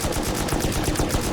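Sustained rapid automatic gunfire from guns in the video game Rust, loud and dense with continuous overlapping bursts and no talking.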